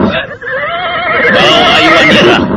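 A horse neighs loudly and close by, a long shrill whinny rising and wavering over a dense background, the animal being mounted for a night departure in an Indonesian radio drama set near Pasuruan.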